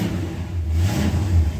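A 1968 Ford XL engine running steadily after starting, a low rumbling drone with a slight rise in revs midway, close and loud, no talking.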